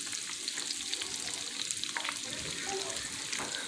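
Battered shrimp for a copycat Longhorn Wild West Shrimp recipe fry in hot oil, a constant crackling sizzle with scattered pops and bubbling, close and alone.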